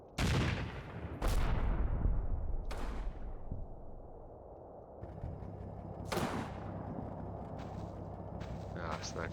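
Howitzer fire in the Combat Mission wargame: several heavy booming blasts spaced a second or more apart with long rumbling tails, then a sharper crack later, loud and close amid rumbling battle noise.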